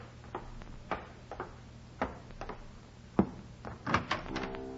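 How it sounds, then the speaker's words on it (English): Door opening in a 1949 radio drama, a set of light creaks, clicks and knocks in uneven rhythm, close and moderately loud over a faint steady hum. "when she opened the door"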